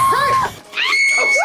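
A man screams in a Dungeons & Dragons movie, with two loud, strained, wailing cries split by a short gap and the second one rising high and held.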